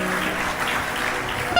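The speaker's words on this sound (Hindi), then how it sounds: "इधर से एक भी ताली नहीं आई, सारी इधर से आई है" Sustained applause from a crowd of women at a devotional katha gathering, dense and even, filling the space at steady loudness throughout.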